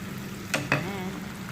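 Mushrooms dropped into a hot pan of cabbage and dried shrimp set off a steady close sizzle, with a couple of quick stirring scrapes partway through and no speech.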